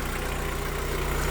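An Opel Astra G 1.8 16v petrol engine idles steadily after a full timing belt kit and water pump job, a close, even mechanical hum with a low rhythmic pulse and no voices.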